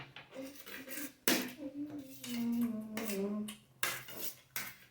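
A spoon clatters and scrapes against a plate during a fried rice eating challenge, with repeated sharp metallic clinks at an irregular pace, close and loud, while a voice sings or hums underneath.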